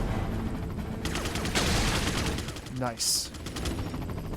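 Gunfire from the Resident Evil 4 video game, with repeated shots and a bursting volley that runs through the whole stretch, mixed with game effects while a voice speaks briefly over it.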